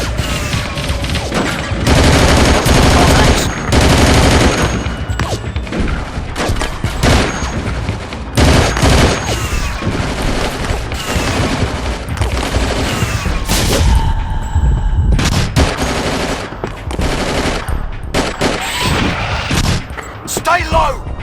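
Dense gunfire fills a battle in the video game Battlefield 2: Modern Combat: loud, rapid rifle bursts and booming shots crackle almost nonstop, with barked soldier commands woven through the din.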